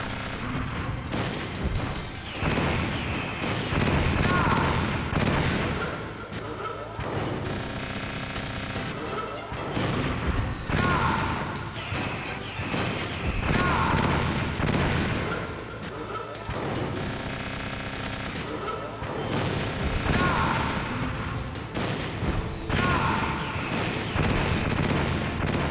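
Missile explosions and crashing combat effects in the video game Metal Gear Solid on PC, a dense run of repeated booms and impacts over roughly twenty-five seconds, loud and busy throughout.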